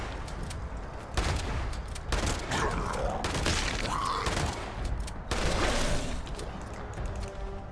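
Shotgun blasts in the game Fallout 76, a chaotic burst of loud, repeated gunfire with crashing impacts across several seconds, mixed with scattered combat noise.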